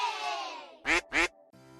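A voice imitates a duck with two short, loud nasal quacks in quick succession, following a stretch of voiced sound.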